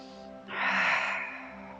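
A single long, breathy exhale during a beginner yoga flow, swelling and then fading over about a second, close and soft over a faint steady background hum.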